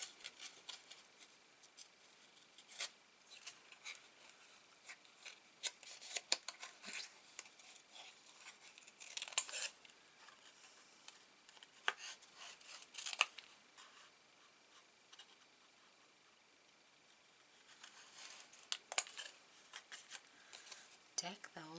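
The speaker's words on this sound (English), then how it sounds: "So all I need to do now is fussy cut these beautiful berries out." Scissors fussy cutting paper berries out for a Christmas card: quiet, close snips and paper rustles come in irregular clusters across a long stretch, with no talk.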